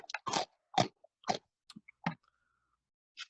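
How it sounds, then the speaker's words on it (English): Close ASMR crunching of a crunchy snack on a tiny microphone: about five sharp, dry bites and chews spaced apart in near silence, with small clicks in between. "I'm doing my ASMR crunch right now."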